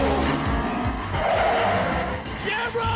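Race cars in an action racing film squeal their tires and skid while engines roar close up, a dense, continuous rush of motor noise with someone narrating over it.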